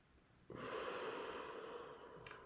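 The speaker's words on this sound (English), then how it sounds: "So breathe in and out and in" A single long, steady breath of air runs close and clear through most of the stretch, starting abruptly after a brief quiet moment, with no talking over it.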